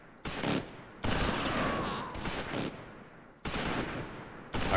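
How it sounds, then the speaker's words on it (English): Gunfire in the World War II video game Close Combat IV, a sniper firing on a machine gun position, with loud sharp bursts of shots that stop and restart in separate volleys, close and harsh. "Sniper, get some shots on the machine gun."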